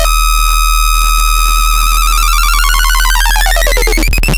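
FM synthesizer tone with frequency modulation from the sub oscillator, a sustained D4 note whose bright metallic sidebands sweep and warp over several seconds, loud and steady with no talking.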